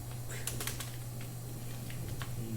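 Quick keystrokes on a computer keyboard during typing practice, a short run of clicks over a constant background hum.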